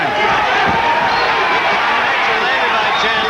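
A hometown boxing crowd roars steadily and loudly after Chandler lands a punch, a dense wash of cheering and chatter with a commentator's voice running over it throughout.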